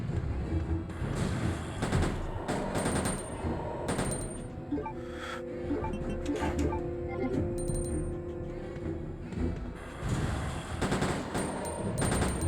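Handgun fire in the Resident Evil 2 video game: loud, rapid shots crack one after another with almost no pause for about twelve seconds, over a steady tonal hum from the game.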